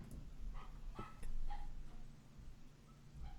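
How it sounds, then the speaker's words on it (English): A small dog barks somewhere in the background, a few faint, scattered yips and barks set back behind a low room murmur. "the dog that's barking in the background"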